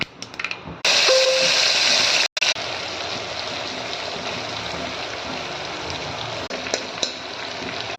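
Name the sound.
oil frying stuffed potatoes and brinjal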